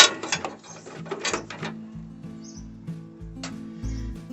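A PC power supply's plastic latch is pressed and the unit pulled free, giving a run of close clicks and ratcheting mechanical rattles followed by a few scattered knocks and a short chirp-like squeak.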